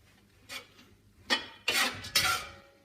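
Fried brown rice being tossed in a large cast iron pan, giving three or four bright scraping, clinking bursts of rising intensity, close and fairly loud, with no talking.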